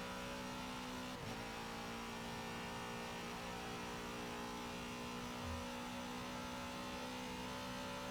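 Race car in Forza Motorsport 7 accelerates along a track's final main straight, a steady, buzzing engine drone with a constant, even hum throughout.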